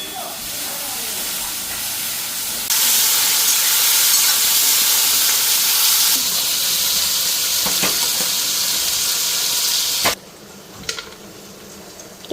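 Rice and soybeans frying in a home kitchen pan give a loud, steady hiss and sizzle that jumps up partway through, then drops to quieter crackles with a few sharp clinks near the end.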